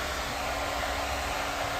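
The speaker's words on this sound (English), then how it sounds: "I'm not familiar with this blow dryer, but I looked." A hair blow dryer runs on its high setting, a loud, steady, close-up rushing roar of blown air that holds constant throughout with no talk.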